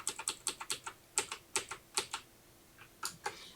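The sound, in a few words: typing code on a computer keyboard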